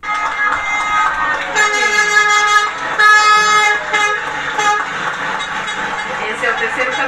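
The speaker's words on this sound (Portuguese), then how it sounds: "Esse é o terceiro caminhão que está passando, está entrando." Oxygen delivery trucks honking as they pull in, several sustained tonal horn blasts layered over engine rumble, loud and close, with voices in the background.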